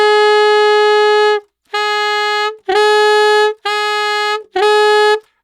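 A saxophone holds an F played with the alternate low B-flat fingering, sounding five sustained, reedy tones separated by short gaps. The first tone is the longest, and all are loud, close and unaccompanied.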